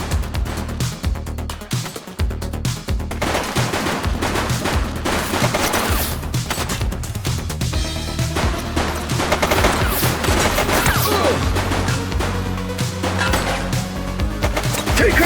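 Heavy gunfire in a shootout against gang goons in the police video game The Precinct: dense, continuous bursts of automatic fire and rapid shots blend into a loud, sustained fusillade lasting the whole stretch.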